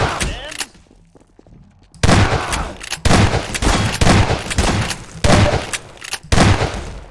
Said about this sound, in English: Shotgun effective at range